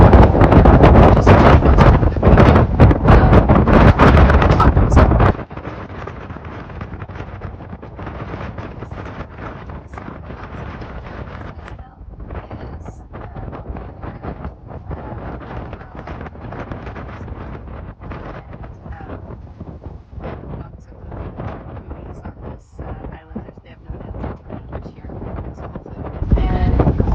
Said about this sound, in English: When the wind dies down.